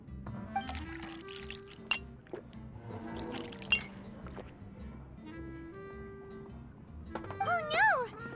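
Juice poured into a glass in a video game, with clinks and a rising liquid trickle near the end, set under background music and game sound effects.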